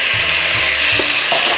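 Chopped tomatoes going into a hot pan with ginger garlic paste for a spinach and potato curry, a loud close sizzle with a few soft stirring knocks.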